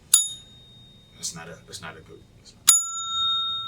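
A bell dings sharply at the start and again near the end, each strike ringing on with bright sustained tones, with someone talking in between.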